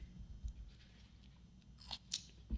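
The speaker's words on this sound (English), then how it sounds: "Good crunch. Good crunch. These are good pickles." Spicy jalapeño and habanero pickles bitten and chewed up close, with quiet, wet crunching in a soft background and a couple of sharper bites near the end.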